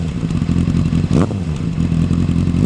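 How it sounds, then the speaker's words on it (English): A Honda CBR600RR inline-four motorcycle engine revs close by with a deep, raspy note, a sustained rumble broken by a quick blip of the throttle midway before settling back into its idle. "one characteristic of the Honda inline fours is that it's a bit on the deeper end, but also has a more raspy note"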